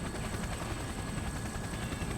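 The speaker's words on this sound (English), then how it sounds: "the helicopter has descended close enough to the roof of Junets that people and dogs can easily jump down" Helicopter descending toward a rooftop in the Persona 4 Arena Ultimax video game, a steady, low rotor drone with a faint whine, heard alone at a constant level.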